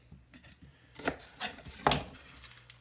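A kitchen knife cuts the core out of an onion on a board, giving a few sharp, close chopping knocks spread unevenly, with faint scraping between them and no talk.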